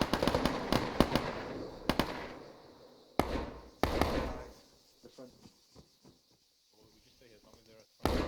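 Rapid gunfire from a military video game close-quarters training exercise with AI squads, sharp bursts of cracks in the first four seconds, then sparser softer shots and clicks, with a voice talking faintly over parts of it.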